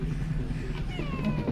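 A startled cat in Half-Life: Alyx lets out a short, rising, wavering meow, then a second plaintive cry, close and clear over faint room ambience.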